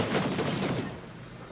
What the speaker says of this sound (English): somebody's shooting at me here